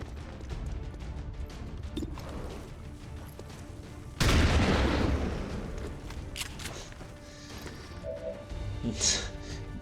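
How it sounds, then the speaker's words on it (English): A single heavy shotgun blast in XCOM 2 Long War bursts out loud and sharp mid-scene, trailing off in a decaying crash over ambient game sound. "Minimum damage with the shotgun"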